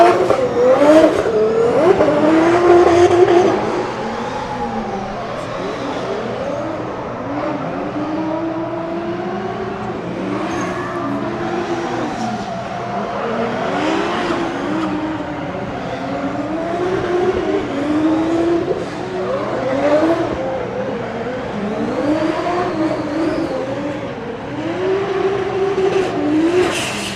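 A drift car makes a solo run on a concrete track at a Drift Masters event in Germany, its engine rising and falling through hard revving swells with tire squeal and a strong, sustained roar.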